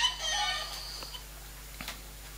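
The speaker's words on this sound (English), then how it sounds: "the mother chicken emits a rather fetching clucking noise" Clucking from a chicken animation in a BlackBerry 10 app: a brief, bright burst of clucks in the first half-second, then a couple of faint clicks over quiet background.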